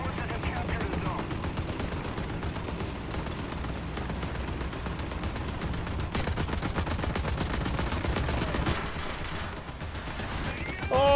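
Rapid .50 caliber machine gun fire in War Thunder ground combat, a steady stream of closely spaced shots rattling on at a fairly even rhythm with battle noise around it.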